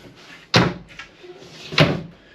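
Drawers in a camper trailer are pushed shut, two sharp wooden thuds about a second apart with softer sliding knocks between them, close by and with no talking.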